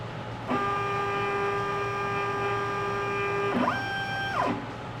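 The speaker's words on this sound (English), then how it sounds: "Now the machine's going to do it automatically by itself." An X-Carve CNC machine runs its automatic touch-plate probing routine: stepper motors whine steadily with a fixed tone, then shift to a higher pitch and back again as the axis moves, close and continuous.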